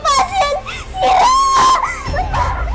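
A young girl screams and wails for help in an empty building, her shrill, sustained cries rising and breaking close and loud, mixed with sobbing and a struggling voice.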